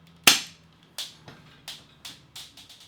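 A toy cap gun fires a sharp first crack, then several quicker, quieter snaps at irregular intervals, dry and close with quick decays and no talking between them.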